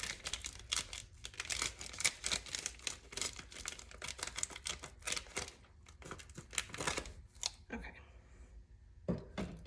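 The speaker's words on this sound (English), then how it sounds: "I'm gonna cut my piping bag so I can get my white in there." Scissors cutting through a plastic piping bag, a run of quick crinkling snips and rustles in bursts with short pauses, close and fairly quiet.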